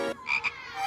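A frog in a classroom gives a couple of short, close croaks, loud and clear with no voices over them.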